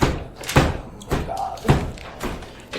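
Heavy thumps against a door as a tabletop role-play sound effect, three dull, spaced blows with softer knocks between them, close and fairly loud.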